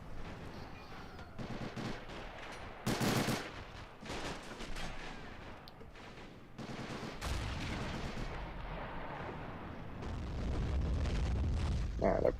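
105mm artillery fires in a World War II tank strategy game, a series of booming blasts and rumbling impacts with distant gunfire, one loud burst standing out amid the continuous battle noise.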